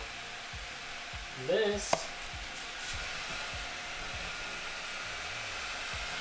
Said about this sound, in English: So if you can hear that noise, that is the fan.